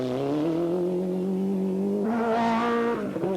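Rally car engines revving as competitors leave the stage start of the 1993 Paris-Dakar Rally, a loud rising engine drone that climbs in pitch, then a sharper higher rev as another car pulls away close by.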